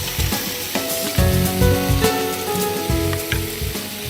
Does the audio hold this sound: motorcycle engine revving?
no